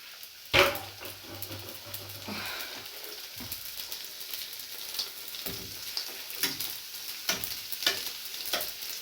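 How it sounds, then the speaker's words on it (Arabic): Pastry dough fries in hot oil, giving a soft continuous sizzle broken by scattered crackles, bubbling pops and a few louder clatters. "هانتوما كيتحمروا، جاو زوينين."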